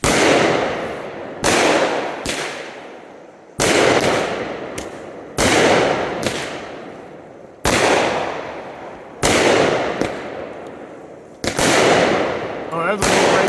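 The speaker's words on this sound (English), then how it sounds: "all I had to do was hit one sequence button, and down the line, all 12 of these cakes fired" Superior Fireworks Spirit of America cakes, twelve fired down the line from one sequence button, go off as a run of loud sharp booming bursts, each followed by crackling decay, about seven heavy blasts at irregular intervals.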